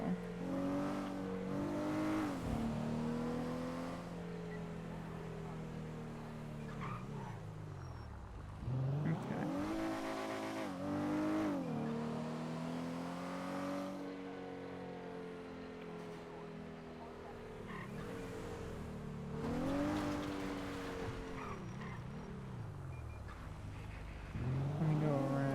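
A car engine droning and revving as it drives down a highway, gear changes rising and falling in pitch over a steady road roar, close and continuous.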